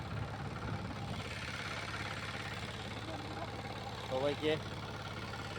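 A mini power tiller engine chugs steadily throughout with an even, rumbling idle, while someone talks over it close by.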